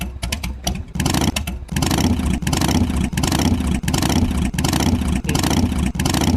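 Simulated piston engine with enlarged pistons revving in rhythmic pulses, a series of loud, even throbbing bursts after a few brief clicks, with a single short spoken word at the start.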